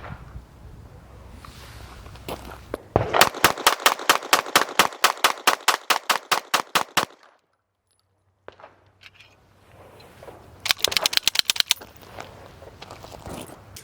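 Ported 2011 pistols fired at an outdoor shooting range: a rapid string of about fifteen sharp, loud shots in quick rhythm, a pause of near silence, then a second short fast burst of shots.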